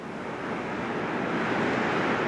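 Water rushing over the Marble Creek Rapids just below the campground, a steady broadband roar that holds close and loud throughout with no voices.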